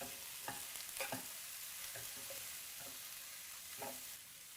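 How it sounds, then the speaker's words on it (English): Mushrooms, broccoli and tomatoes cook together in a pan with a soft, continuous sizzle, broken by a few faint scrapes and knocks from stirring. "So our mushrooms, broccoli, and tomatoes have been cooking for about 5 minutes together"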